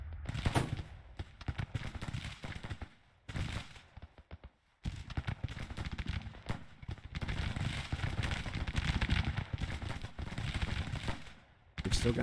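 Battlefield gunfire in Grand Tactician, a Civil War era strategy game: dense, crackling volleys of musketry roll on almost continuously with brief lulls, while distant booms sound under the rattle and faint voices come through.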